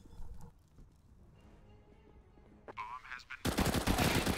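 Rapid UMP submachine gun bursts from a CS:GO match on Overpass, starting faint and sharp before a loud, dense spray of automatic fire near the end, with muffled game noise underneath.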